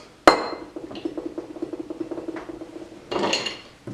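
Ice cubes dropped into a glass while making a nor'easter cocktail: one sharp initial clatter, a run of small clinks and rattles, then another burst of tumbling ice near the end, close and fairly quiet.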